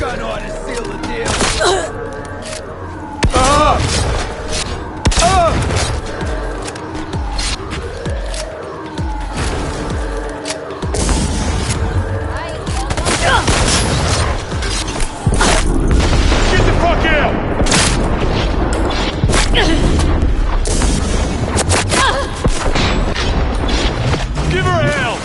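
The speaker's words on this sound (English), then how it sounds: "Shotgun ought to seal the deal." Shotgun blasts in Cyberpunk 2077 boom through a dense, loud mix of combat noise, mechanical clatter and explosions, with voices talking over the gunfight throughout.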